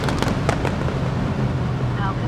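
Exhaust pops and bangs from a 2023 Mercedes SL 63 AMG convertible on lift-off, a burst of sharp crackles early on that fade into a lower engine rumble.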